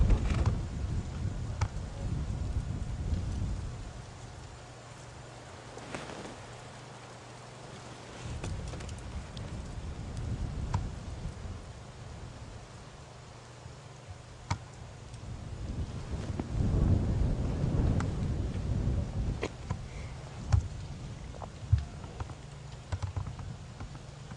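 Strong night wind gusting through the bush on a South African safari drive, rushing and buffeting the microphone in uneven surges that swell and fade, with scattered pops and rustles.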